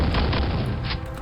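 Shotgun blasts from a Quake mod called Dwell, a dense run of booming shots close together with no pauses, loud and up front throughout.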